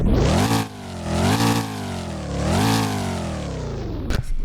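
A car engine in a Roblox driving game revs hard at startup, climbing and falling in pitch through repeated aggressive sweeps, loud and close, ending with a couple of brief clicks.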